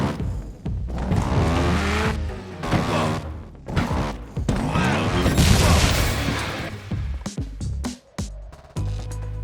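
Trials Evolution motorbike test run on an editor-built track, with loud continuous engine revving, tire noise and crashing, thudding impacts, ending in a few sharp hits.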